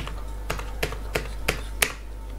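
Five evenly spaced, crisp keystrokes on a computer keyboard entering an amount, a slow steady rhythm, close and distinct over a faint low hum.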